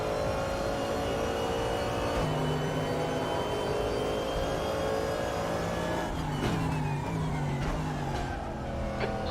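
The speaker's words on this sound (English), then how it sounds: "There's a car leaving the pits" Race car pulling out of the pits at Laguna Seca in the RaceRoom sim racing game during an American Sports Car Championship round, a steady engine drone with gear shifts and rising revs, fairly quiet, no talking.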